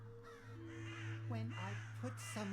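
Harsh crow caws in the horror game Saint Kotar, several rough calls clustered in quick succession over a steady low drone, close and fairly loud.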